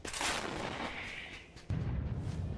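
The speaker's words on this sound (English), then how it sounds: "Russian forces deploy a self-propelled artillery and open fire at Ukrainian vehicles" Self-propelled artillery gun firing in the War Thunder video game, one heavy booming shot followed by a rumbling decay, then a second low blast near the end, loud and close.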